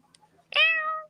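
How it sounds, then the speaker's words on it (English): A single cat meows once, loud and close, a drawn-out rising-then-falling cry lasting about half a second after a quiet, still moment with faint background noise. "This little cat must have come here from Nature Zone"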